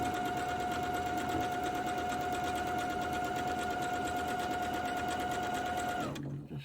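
A sewing machine runs steadily while stitching a main seam on a Japanese fabric quilt, a continuous close mechanical whir with rapid needle rhythm that stops abruptly near the end.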